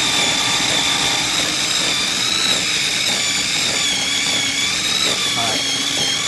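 A food processor runs continuously with a loud whirring motor as it chops banana while making nut butter, a steady grinding drone that stays level throughout.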